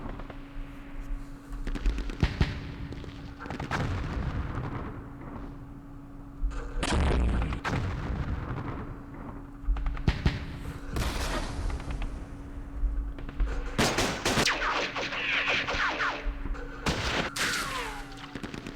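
Battle sounds from the war video game Campaign Series Middle East: dense bursts of gunfire and heavy booming artillery blasts, with repeated loud impacts over a constant low hum.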